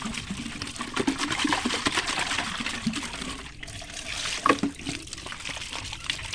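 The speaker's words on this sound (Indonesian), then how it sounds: "Ini kita cuci terlebih dahulu tempatnya." Water splashes and trickles as a chicken feeder container is rinsed out, uneven pouring and dribbling close by, with a brief louder splash near the end.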